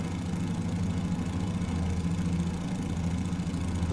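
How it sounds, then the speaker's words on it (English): A Fokker F VII engine in Microsoft Flight Simulator idles with a constant, close, low throbbing drone that stays level throughout. "We'll start the number 2 engine, so the centre engine."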